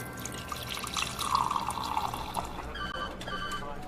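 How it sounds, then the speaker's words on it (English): Iced water dispensed from a machine in a radio drama scene, a continuous trickling pour with light splashing and drips, rising then tapering off, close and moderately loud with no voices. "Iced water being dispensed."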